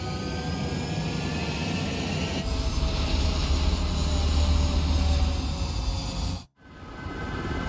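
Jet fighter engines roar at takeoff in the Ace Combat 7 video game, a loud steady broadband rush that swells midway, cuts out abruptly for a moment, then resumes.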